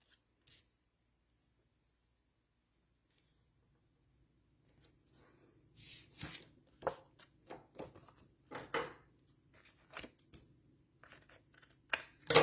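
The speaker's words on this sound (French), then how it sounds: "Ici, j'en ai un petit peu trop, donc on va le couper" Scissors trimming excess cardstock, a run of crisp snipping and rustling strokes that starts sparse and grows denser, close and quiet with no talking.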